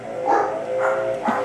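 Dogs barking at a house in an HOA neighborhood while yard trimmings are blown away, three loud close barks spaced about half a second apart.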